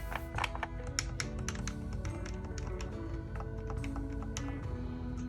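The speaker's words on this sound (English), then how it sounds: "The rear remappable buttons have a very subtle and satisfying click to them." The rear remappable buttons on a CRKD Nitro Deck handheld controller give repeated small, crisp clicks close up, irregular like typing, over a low background hum.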